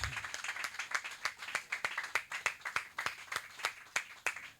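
A church congregation claps in a steady rhythm at a revival service, with sharp repeated hand claps at an even pace and faint voices underneath.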